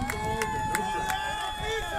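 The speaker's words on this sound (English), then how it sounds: "the crowd comes alive here in the top of the 6th inning" Baseball crowd in the top of the sixth inning, a steady roar of cheering and hubbub that stays loud and continuous throughout, with a few sharper bursts rising out of the noise.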